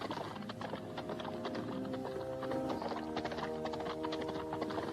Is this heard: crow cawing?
no